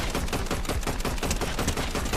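Video game gunfire rattles in rapid repeated shots, a dense loud burst of close-range automatic fire with no talk over it.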